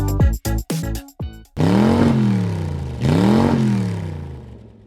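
A racing car in Gran Turismo, driven with sim pedals on the Lake Maggiore circuit, gives a burst of sharp throttle blips, then two long revving accelerations that climb and fall through the gears, loud and close.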